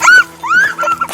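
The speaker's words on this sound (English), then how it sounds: "Oh, look at this dog." A poodle out on a muddy trail on Mt. Doug gives high, whining whimpers and yips, a few short rising-and-falling cries close by.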